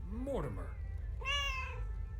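Mort, a cat in the game Lake, gives two short meows close up, the first a sliding rising-then-falling cry and the second a brighter, steadier mew after a brief pause.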